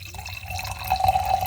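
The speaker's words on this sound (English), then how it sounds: "Pouring some wine." Wine pouring into a glass gives a close, steady liquid trickle that builds into a brighter gurgling stream over a low background hum, with no talk.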